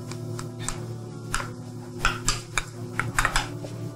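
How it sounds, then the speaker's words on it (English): Garlic and ginger tipped into a pan of cooking offal, giving scattered clinks and scrapes of utensils against cookware over a steady low hum, with a few sharper knocks toward the end. "I'm going to add my ginger and garlic"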